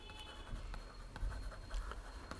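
Pen writing on paper during an English assignment lesson: faint, close scratching strokes in quick irregular bursts, with soft taps and no speech.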